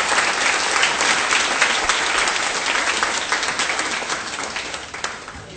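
A crowd at the Kentucky Horse Park applauds in welcome for the racehorse Cigar, with loud, steady clapping that holds for several seconds and then begins to thin and fade.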